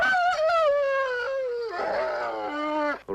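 Rex the dog whines and howls in a long, wavering, high-pitched cry that slides downward, then rises again in a second strained whimper, close and loud with no one speaking.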